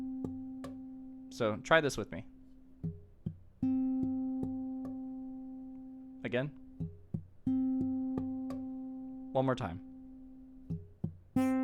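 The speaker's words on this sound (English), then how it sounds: "but only the 10th fret on the D string is ringing out." An electric guitar note fretted at the 10th fret of the D string, with the other strings muted by draped fingers, rings out three times with clean sustain; someone speaks briefly between the notes.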